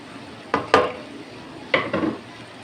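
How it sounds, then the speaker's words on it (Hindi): Beef tikka boti scraped and served from a metal pan, with two pairs of sharp utensil scrapes and clinks against the pan over a faint background hiss. "इसको मैं डिश आउट करता हूँ"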